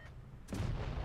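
A single heavy tank-gun shot fires in a video game from an MB-64 Galilej tier 10 hybrid medium tank, a sudden loud boom after a brief quiet lead-in, followed by a sustained low rumble.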